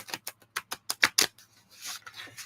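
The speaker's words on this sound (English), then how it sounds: "Let's see if I can do a riffle shuffle with this deck" A tarot card deck being riffle shuffled, a run of quick papery flutters and clicks that speed up and then trail into a softer, longer riffle, close and fairly quiet.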